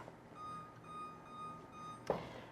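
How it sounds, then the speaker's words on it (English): A kitchen oven timer emits a steady series of faint, high, even beeps in a quiet room, ending with a brief louder clatter near the close. "set my timer"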